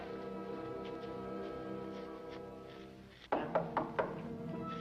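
Knocking on a door in a vintage radio drama, four sharp, close knocks in an even rhythm that cut in after a low sustained musical tone fades out.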